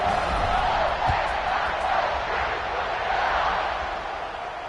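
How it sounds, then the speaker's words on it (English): Stadium crowd noise from a football video game, a dense steady roar with a loud murmuring buzz that holds throughout and eases slightly near the end, with no clear voice on top. "this crowd is buzzing after that last score"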